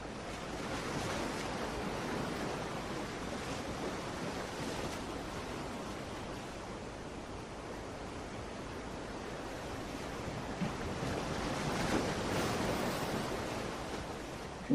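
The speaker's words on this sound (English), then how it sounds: "the rhythm of those waves just letting you feel peace" Ocean surf rolls in a soft, continuous wash with slow swells of rising and falling noise. It sounds distant and faint, with no voices.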